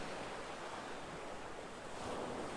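Ocean surf washing in a steady, broad rush with soft wind noise on the microphone, continuous and fairly faint, with no voices over it.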